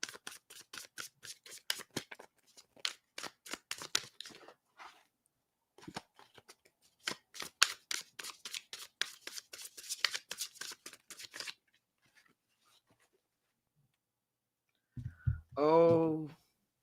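Tarot cards are shuffled by hand in quick riffling and slapping bursts, two long runs of crisp close snaps separated by a short pause, followed by a brief spoken remark.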